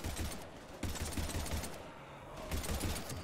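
Rapid gunfire in the Mass Effect 3 video game keeps crackling in dense, continuous bursts as heavy combat noise, with no clear pauses between shots.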